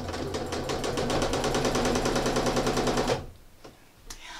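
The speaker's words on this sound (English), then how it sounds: "So I'm going to stitch down to the center of the next block." A sewing machine free-motion stitching a quilt block on a crate quilt, running with a fast, steady mechanical chatter for about three seconds before stopping abruptly, leaving only faint clicks and handling noises.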